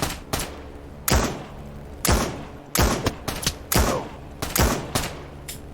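A gun in an Oculus Quest virtual reality game fires in sharp, loud shots, some single and some in quick pairs and short bursts, spread irregularly across several seconds, with no talking.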